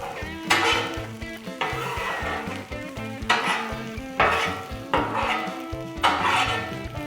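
Breakfast burrito sausage and potatoes sizzle steadily on a Blackstone griddle, with bursts of stirring and scraping recurring every second or so, close and moderately loud, without talking.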